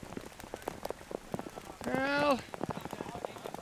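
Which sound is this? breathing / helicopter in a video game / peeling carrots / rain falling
rain falling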